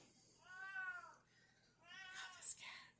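A house cat meows twice, close by and fairly quiet, each call a drawn-out wavering cry with a short pause between them.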